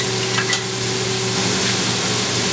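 Onions fry in a pan with a splash of brandy and get stirred, giving a steady, close sizzle with a few brief scraping stirs and no talk.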